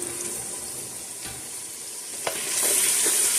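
Whole spices, a cinnamon stick, black cardamom and black peppercorns, stirred as they fry in a pot for chicken shorba, giving a steady sizzle with a few sharp scrapes of the spoon. It ends slightly louder, with no talking.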